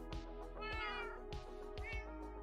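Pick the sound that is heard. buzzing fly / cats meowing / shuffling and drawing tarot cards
cats meowing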